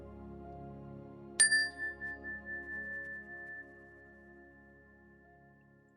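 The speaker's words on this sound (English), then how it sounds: "we'll begin the meditation with the ring of the chime" A single meditation chime is struck once with a bright metallic ding. The tone swells and pulses a few times, then rings on as a long, fading tone in a quiet room.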